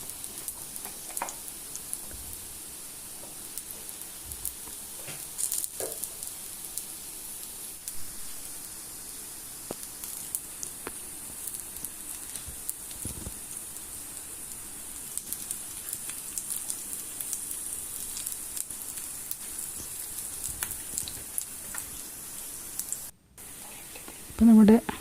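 Capsicum vada fries in a little coconut oil, a steady soft sizzle and crackle with scattered pops running throughout at low level.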